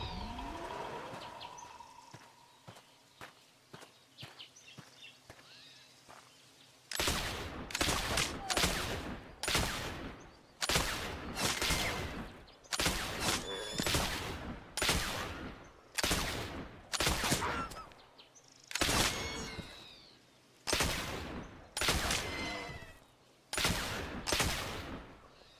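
Hunting gunshots in the retro video game Oregon Trail, a long run of loud evenly spaced blasts fired one after another, each decaying quickly, after a quieter stretch of faint chirps and tones.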